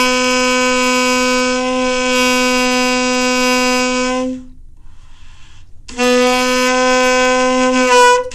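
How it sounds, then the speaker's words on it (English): An alto saxophone holds a steady two-finger A note, close and loud, for about four seconds. After a brief pause the same bright, reedy tone comes back and sustains to the end, with no talking. "Our second note is A, and that's 2 fingers, and it should sound like this."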